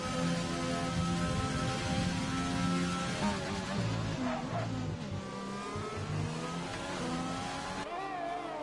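Race cars in an F1 video game roar past one after another on the Singapore circuit, engines revving and shifting pitch as they sweep through the final corner and across the line, loud and continuous without a break.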